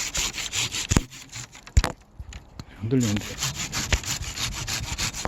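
A hand saw cuts through the central branch of a plum tree during pruning, with rough back-and-forth rasping strokes close by, a few sharp creaks as the limb shifts, and a voice speaking briefly between strokes.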